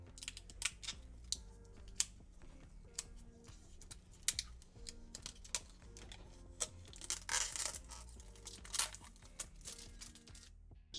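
Protective plastic film crackles and crinkles as it is peeled off a glossy custom LEGO display piece, a close, quiet series of irregular sharp ticks and rustling tears with no talking.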